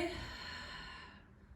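One long, soft exhale during an exercise session, a breathy sigh up close that fades out toward the end.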